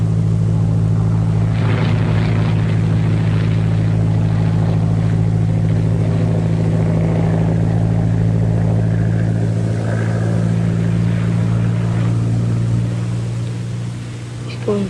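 A propeller airplane drones steadily in an old film serial, a loud continuous engine hum that holds throughout and eases slightly near the end, with faint voices and background noise over it.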